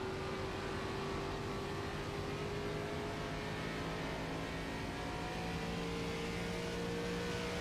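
In-car view of an ARCA Series stock car in a racing video game at Nashville, the engine droning loud and steady without a break, pitch bobbing slightly as the driver works the clutch.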